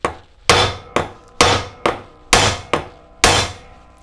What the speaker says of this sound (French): avec le marteau, je vais l'attaquer mais vraiment sauvagement